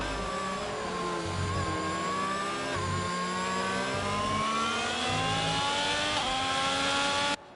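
Race cars in a sim racing game accelerate along the Mexico circuit, engines whining steadily upward through the gears with overlapping tones from several cars, loud and continuous until a sudden cut at the end.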